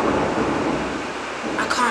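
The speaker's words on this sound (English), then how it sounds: "Oh my god, thunderstorm." A thunderstorm heard from indoors as a continuous loud low rumble of thunder and storm noise, with a brief sharper rise near the end.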